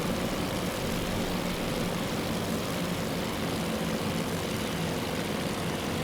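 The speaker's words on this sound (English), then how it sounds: "You can see another bombing run going down in the background." Aircraft engines drone continuously during a bombing run against a Japanese carrier in the naval strategy game Task Force Admiral, a steady, even propeller-plane roar with no break or change across the span.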